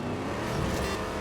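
Steady engine roar of a Mustang racing car in Grid Legends, a continuous broadband drone with a slight swell midway, close and fairly loud, with no voices.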